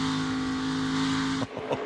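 NASCAR Xfinity Series race car at Homestead-Miami Speedway under throttle, a loud sustained engine roar that cuts off abruptly near the end into a brief rougher burst.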